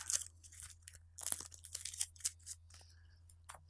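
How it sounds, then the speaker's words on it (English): Darkness cards for the Shadows of Brimstone board game being shuffled by hand: quick, irregular papery riffles and snaps, close and fairly quiet, with no talking. "All right, let's shuffle this real quick."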